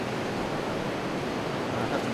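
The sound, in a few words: ocean waves coming in at a rocky shore pool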